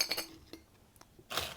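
Crispy fried Ibores cheese shattering, with a few faint, sharp brittle cracks and crunches close by in an otherwise quiet moment.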